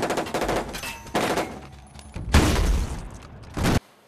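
Gunfire in a Miami Vice film gun battle crackles in loud, dense bursts of rapid shots, with short pauses between volleys and a final burst cut off abruptly.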